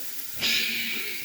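A handful of mixed food laid into a hot pan, bursting into a sudden loud sizzle that holds steady and hissing, close up with no talk.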